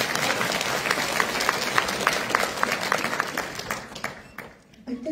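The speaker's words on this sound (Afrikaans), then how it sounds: "Het jy lus om vir haar 'n hande klapie te gee?" Audience applause fills the room with dense, steady clapping from a sizeable crowd, loud and sustained before fading out near the end, with a faint voice coming in at the close.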